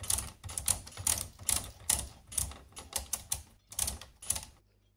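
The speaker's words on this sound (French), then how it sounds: "J'installe ma carte du côté A" A punch card being fed into a knitting machine produces a rapid series of sharp mechanical clicks and clacks in an uneven rhythm. The sound is close and loud, with no talking.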